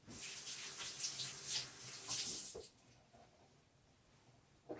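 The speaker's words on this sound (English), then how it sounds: "Quick wash of the hands." Kitchen tap running briefly for a quick hand wash, a steady hiss of water splashing for a couple of seconds, then cutting off to quiet room tone with a small clatter at the end.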